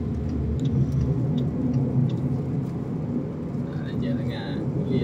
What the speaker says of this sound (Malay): Banyak dah lah kereta yang nak keluar